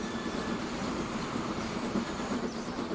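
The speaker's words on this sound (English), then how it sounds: "There goes our food train." A food train rolls past in the Transport Fever rail-building game, a steady, continuous low rumble of wagons with no clear clicks or horn, holding at moderate level throughout.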